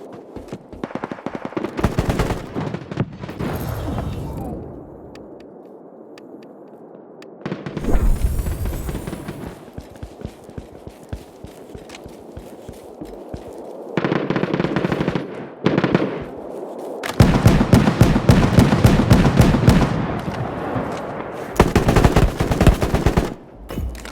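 Automatic weapons in Battle Prime: rapid bursts of close, loud gunfire in rattling strings, separated by brief lulls, with dense sustained volleys toward the end.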